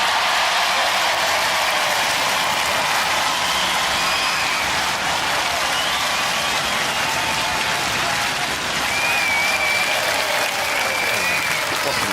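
A Robot Wars arena audience applauds the Panic Attack robot with a loud, dense, sustained wave of clapping and crowd noise that runs unbroken for the whole stretch.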